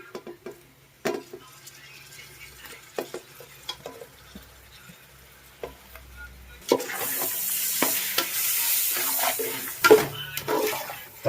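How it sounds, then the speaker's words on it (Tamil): Tomatoes, mint and green chilies dropped into hot oil with garlic, a steady sizzle of frying rising suddenly after scattered clinks and stirring of a pan, then continuing with spoon scrapes against the pot. "இப்போ வந்து நம்ம தக்காளி, புதினா, பச்சை மிளகா இதெல்லாமே சேர்த்துக்கலாம்"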